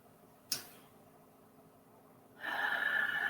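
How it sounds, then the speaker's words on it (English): A sharp, brief inhale, then quiet, followed by a long, audible breath of air during a meditation session, close and soft, with no talking. "I'm going to take a couple deep breaths."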